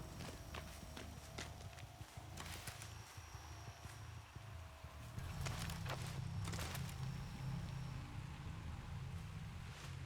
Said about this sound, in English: I heard your footsteps